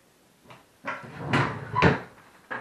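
A drawer slides open and then shuts, giving a few scraping and thumping wooden knocks close by, ending with a final soft bump.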